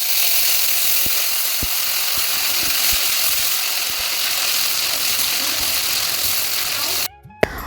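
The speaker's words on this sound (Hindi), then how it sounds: "तेल हमारा गर्म हो चुका है, उसमें डाल दी है मेथी, जीरा, हींग, और उसके बाद पिसे हुए मसाले डाल देते हैं" Ground spices sizzling in hot oil with fenugreek, cumin and asafoetida, a loud, continuous crackling fry with a few sharp clicks of utensils, ending abruptly in a short quieter stretch.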